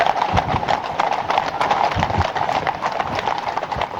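Horses' hooves clip-clopping steadily on a ride in rural Ireland, a busy overlapping patter of many hoofbeats, close and continuous, with a brief neigh amid faint background voices.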